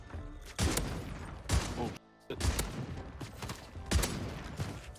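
Jack Devastator guns in Warzone gameplay fire in loud, dense bursts separated by short gaps, with a brief silence near the middle and a voice exclaiming once.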